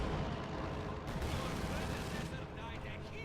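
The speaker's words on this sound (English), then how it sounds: "Oh, they have an MG-42." Rapid MG-42 machine gun bursts in a Company of Heroes 2 battle, loud and dense amid rumbling artillery and explosions, with continuous layered gunfire filling the whole stretch.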